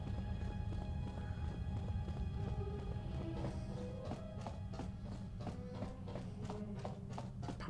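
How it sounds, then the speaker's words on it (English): Footsteps of a character running through a room in the video game KOTOR II sound as quick, even rhythmic taps over a low ambient game hum, with no talking. "Our footsteps are so stinging loud."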